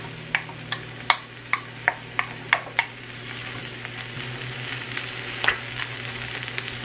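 Rice tipped into a hot pan of fried vegetables sizzles steadily, with a run of sharp spatula clinks and scrapes against the pan early on, then a continuous crackling fry close by.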